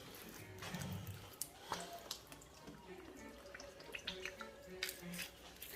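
Light soy sauce is poured into a mixture of mustard and Worcestershire sauce in a home kitchen, giving a faint liquid trickle with small splashes and drips under a quiet background hiss.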